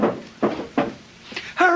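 A radio-drama kitchen table drawer is pulled open in a series of short wooden knocks and scrapes, four distinct thumps close and clear, followed by a brief tonal rise at the end.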